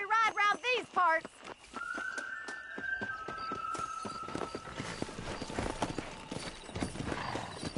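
A horse gallops in the Red Dead Redemption video game, with steady clip-clop hoofbeats that start after a brief voice and build into a fast, continuous rhythm, close and clear.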